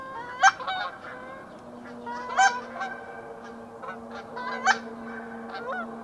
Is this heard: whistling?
no